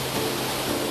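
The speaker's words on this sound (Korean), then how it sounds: "동굴 속에서 거대한 물줄기를 쏟아내는 폭포가 그야말로 장관입니다." A waterfall gushes inside Daegeumgul cave, a dense, steady roar of falling water that fills the space evenly and loudly, with no voices over it.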